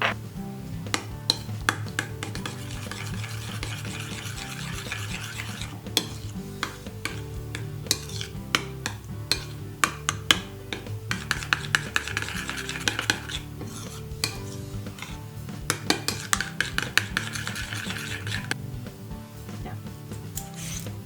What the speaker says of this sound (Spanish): y lo mezclamos.